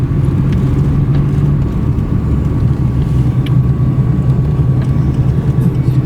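Car driving along a road in Baja Mexico, a steady loud rumble of engine and tyres with constant road noise throughout, no talking over it.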